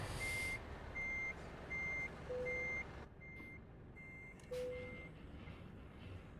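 A truck in Euro Truck Simulator 2 reverses with a steady, evenly spaced series of high electronic warning beeps over a continuous engine rumble, loud and close, with no speech.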